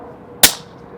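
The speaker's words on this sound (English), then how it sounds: "here's the shot without the moderator" A single sharp crack from an RTI Prophet II PCP air rifle fired without a moderator at a Texas range, close and abrupt with a brief decay over quiet background.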